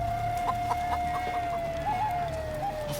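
Chicken clucking in Baldur's Gate 3, a steady run of short, nasal clucks with a few higher squawks, heard close over a low ambient game background with no talking.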